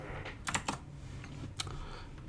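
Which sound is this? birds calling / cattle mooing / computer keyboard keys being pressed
computer keyboard keys being pressed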